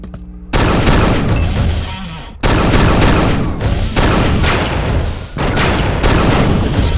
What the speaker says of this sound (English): Dispersion pistol doesn't pack a whole lot of punch, but it's always there for you because it never runs out of ammo.